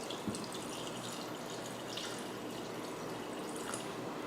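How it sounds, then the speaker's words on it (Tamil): Water poured into a pressure cooker holding bone-in mutton with turmeric and salt, a steady splashing pour running throughout without pause, close by and moderately loud. "இப்போ தேவையான அளவுக்கு தண்ணி."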